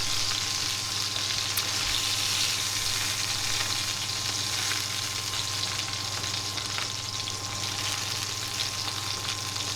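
Pork fillets fry in a pan with a continuous, even sizzle that runs unbroken for about ten seconds, close and without speech.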